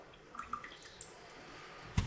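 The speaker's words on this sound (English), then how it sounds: "some of the water's still coming out" Water drips from a bowl of rice being drained, a few soft, faint plinks spread across two seconds, followed by one sharper knock near the end.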